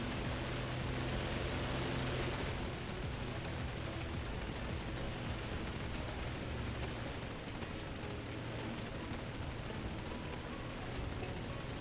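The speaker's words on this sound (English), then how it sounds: "It's too many shots being fired." World War II aircraft guns rattle in War Thunder during a low strafing pass, a dense, fast stream of gunfire heard fairly quietly beneath a constant rushing engine and wind noise.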